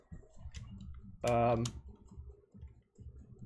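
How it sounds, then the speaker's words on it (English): Soft, sparse clicks from a computer mouse and keyboard at a desk, faint under a brief voiced tone in the room. "can you stop clicking on everything"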